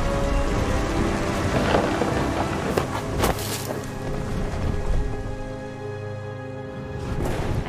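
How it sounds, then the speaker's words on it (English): A thunderstorm with steady, heavy rain and loud rolling thunder close by, over a faint tonal background and with no voices. "The thunder sounded much too close and full of angry power"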